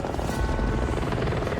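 Helicopter flying overhead gives a steady, loud rotor chop with a dense low rumble that holds throughout, with no voices.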